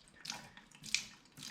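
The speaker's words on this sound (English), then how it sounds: "that's the water coming out" Water trickles out of a trail running water filter in a faint, uneven stream with small splashy bursts, close by and quiet, no talking.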